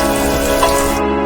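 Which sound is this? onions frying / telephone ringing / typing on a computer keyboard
onions frying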